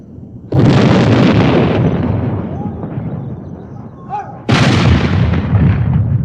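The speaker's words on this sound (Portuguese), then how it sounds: "a artilharia a cavalo vai disparar salva homenagem ao aniversário real" Two loud, booming cannon blasts from horse artillery firing a royal birthday salute, each with a long rumbling echo that slowly fades between shots.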